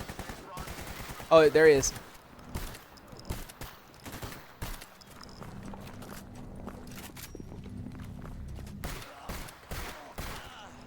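Automatic gunfire in a S.T.A.L.K.E.R. GAMMA firefight, a loud close burst of rapid shots early on, followed by scattered footsteps, rustling and game ambience, with a brief spoken line.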